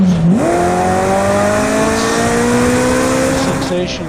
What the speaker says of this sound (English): So I redlined the tachometer and forgot to shift gears